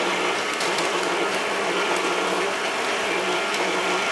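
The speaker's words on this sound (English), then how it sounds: "We're using a Power tools. Nice stand mixer." A stand mixer kneads pizza dough with a loud, steady motor whir that runs continuously, close by and without talk.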